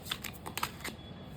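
Oracle cards are shuffled by hand in a few quick, crisp riffling bursts, close and fairly quiet, with no talking.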